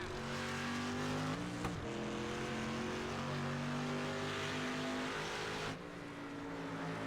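Street stock race cars on a road course roar continuously, engines loud and close with shifting pitch as they accelerate and decelerate, a brief sharp crack partway through and a drop in the roar near the end.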